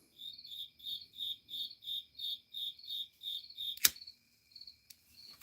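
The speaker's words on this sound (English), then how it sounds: "The crickets are talking to each other." Crickets chirp in steady, evenly spaced bursts of high trilling, about a dozen pulses, then a sharp click breaks in and the chirping turns sparse and broken.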